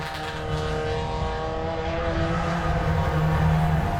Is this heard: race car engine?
yes